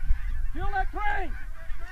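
A crane calling during a bird hunt: two loud, close, honking calls in quick succession over low background rumble.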